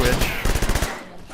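A submachine gun in the video game Orion: Dino Beatdown fires a rapid burst of about a dozen loud, close shots, then cuts off into a brief quiet tail.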